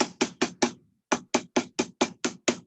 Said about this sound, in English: So you just put it on here and you hammer it